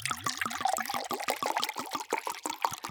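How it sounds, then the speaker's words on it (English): Bordeaux wine glugs from a freshly opened bottle in a rapid series of close, hollow gurgles that climb in pitch as liquid pours out in pulses. "we're opening a bottle of wine"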